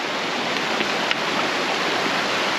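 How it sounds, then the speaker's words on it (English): Running water of an old river being waded across, a steady close broadband rush with no breaks, loud and continuous throughout. "So I'm about to cross the old river, Stevie J."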